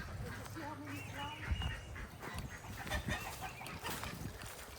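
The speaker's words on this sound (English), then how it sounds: "She's gonna open up the chicken coop, let the girls out." Hens clucking and squawking as a backyard homestead chicken coop is opened to let them out, scattered calls under people talking nearby.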